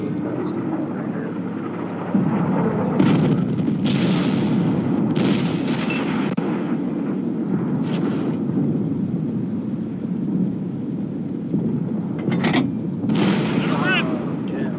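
Heavy in-game gunfire from a shooter played on a live stream, dense rumbling blasts with sharp bursts near 3–6 seconds and again around 12 seconds over a constant loud battle din, with a voice talking throughout.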